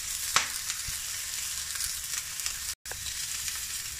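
Ribeye steak frying in a pan, a steady broadband sizzle with faint crackles and one brief sharp pop near the start. The sizzle cuts out for a split second, then resumes at the same even level.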